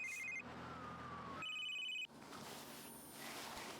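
A phone rings inside The Sims 3 video game, giving short electronic trilling rings in two bursts beside a faint sliding tone and soft game background ambience. The sound is quiet and plays with no talk.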